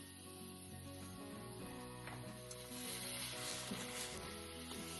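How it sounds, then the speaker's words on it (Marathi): Chopped figs hiss and sizzle steadily in hot jaggery in a pan, a continuous crackling fry with faint clinks over a low background hum. "आता यामध्ये मी हे जे चिरलेले अंजीर आहे हे टाकून देते."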